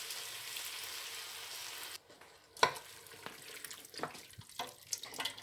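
Onions and peppers fry in a pan for enchilada sauce with a steady hiss of sizzling for about two seconds. It then drops away into scattered scraping and stirring clatters and one sharp knock.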